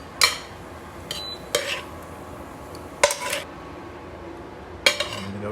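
A spoon scrapes and clinks against a pan while butter, chilli, garlic and lemon are spooned over prawns, giving a few separate metallic taps and scrapes over a quiet background.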